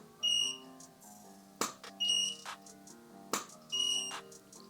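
Godox AD400 Pro and AD-B2 flash units pop twice and then give a string of high, clear, repeated recycling beeps, sometimes overlapping, in a quiet room.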